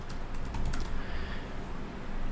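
Rapid, irregular clicks of typing on a computer keyboard, close and fairly quiet over a steady low background hum, with no voices.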